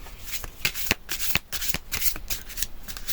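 Tarot cards being shuffled by hand, a rapid run of close, papery riffles and slaps with uneven rhythm and no one talking.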